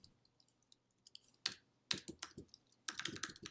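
A computer keyboard clacks while PHP code is written, with sparse soft keystrokes at first, then louder bursts of quick typing in a quiet room.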